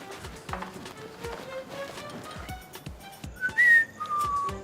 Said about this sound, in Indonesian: jangan siul malam-malam